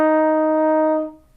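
Single held low E flat on a band wind instrument, a clear steady tone that sustains about a second and then fades out, with no other sound.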